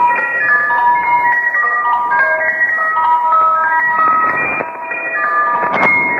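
Numbers station shortwave radio broadcast: a steady run of repetitive electronic tones stepping between pitches, like a music-box melody, over a constant hiss of static, loud and unbroken.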